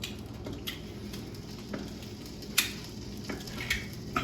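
Eel sizzling as it fries in a hot, preheated pan, a steady low crackle with occasional sharper pops and spatters, fairly quiet and close.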